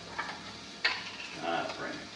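Minced garlic and ginger fry in melted butter with a soft, continuous sizzle, broken by a light clink of a utensil against the pan and gentle stirring.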